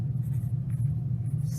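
A pen scratches steadily across a journal page by hand. The soft strokes sit quietly over a constant low hum.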